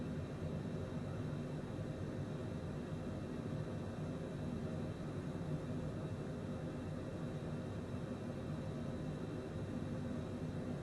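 A Citation private jet drones in flight in Microsoft Flight Simulator 2020, a steady, dense engine and air roar that holds constant throughout without variation or voices.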